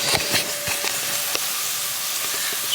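Onions frying for samosas in a home kitchen, a steady close sizzle and hiss with scattered small pops and crackles throughout, no voices.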